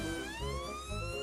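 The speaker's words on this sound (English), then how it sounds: "Peppa and Dr. Brown Bear quickly jump into the ambulance and drive off to the park." A toy ambulance siren in a Peppa Pig stop-motion scene wails in rising and falling tones, close and continuous over a low rumbling background.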